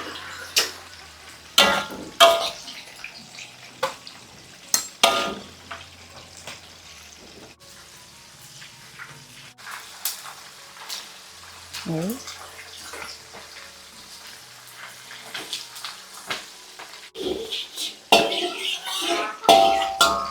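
Spinach stir-frying with broth in a pan, a steady watery sizzle with scattered clatter from the pan and utensils, fairly close, while a person talks on and off.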